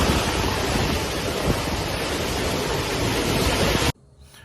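Roaring typhoon wind and crashing waves on a coast, a dense, continuous wash of noise that stays loud and even for about four seconds before cutting off abruptly.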